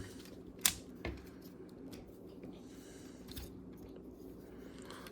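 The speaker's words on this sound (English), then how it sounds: "fold these tabs in, fold the legs down, and collapse the arms down" Takara Tomy Masterpiece G MPG-09 Super Ginrai Transformers figure being transformed, a few faint, scattered plastic clicks and snaps, one sharper near the start, over quiet background.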